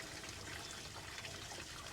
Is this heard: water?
yes